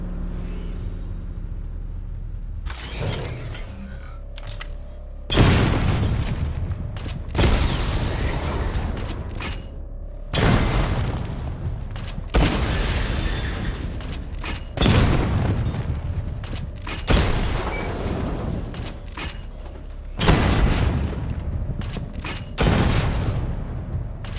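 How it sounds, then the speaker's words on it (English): Missile barrage from the Batmobile in Batman: Arkham Knight fires repeatedly: loud explosive volleys with mechanical launcher clatter burst out about every five seconds, each booming blast decaying before the next. "Charge the missile barrage to level 2 to destroy up to 4 targets at once."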